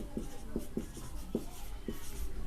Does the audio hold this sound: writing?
yes